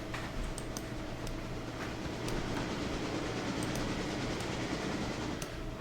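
A freight train rolls past in the railroad game Railroader, a steady dense rumble with faint rhythmic clicks of wheels over rail joints, continuous and fairly close throughout, with no talk over it.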